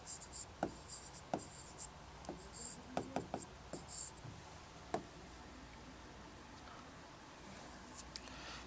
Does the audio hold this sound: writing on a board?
yes